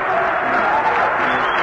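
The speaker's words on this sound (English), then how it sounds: "this crowd is really coming alive" A baseball stadium crowd at a Reds at Cubs game cheers and applauds in a steady, dense wash of clapping and voices, heard at a distance beneath a radio announcer's talk.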